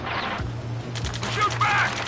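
Scattered gunfire bursts in the combat game Ace Combat 7, sharp cracks over a low droning engine hum, with a voice shouting in the mix.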